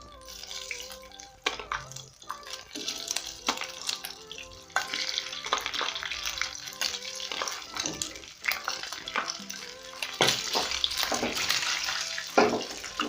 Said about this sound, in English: So I'm simply going to brown my meat on all the sides